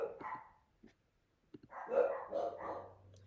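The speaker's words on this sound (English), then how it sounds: "Of course, there's dogs barking" Dogs barking indoors at a work-from-home setting: a few sharp barks, a pause, then a louder cluster of barks and yips, fairly close.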